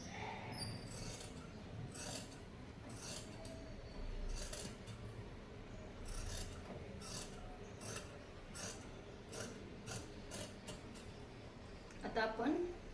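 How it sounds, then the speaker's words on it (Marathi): Scissors snip and rasp through dress fabric along a marked line in a quiet room, a string of short, faint cuts at an uneven pace with no talking. "बरोबर मार्किंगवर व्यवस्थित कट करून घ्यायचं आहे"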